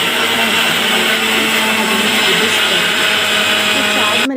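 A wet grinder or mixer grinder runs steadily throughout, whirring loud and continuous as it grinds masala for fish curry with tomato, onion, green chilli and garlic, before cutting off abruptly at the end.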